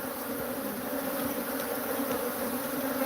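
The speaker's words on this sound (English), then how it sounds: "We have killer bees, everyone." Killer bees swarm around a big hive, a dense, steady buzz that holds loud and close for the whole stretch with no voices over it.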